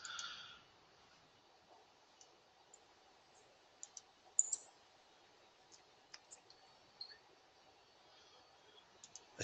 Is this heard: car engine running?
no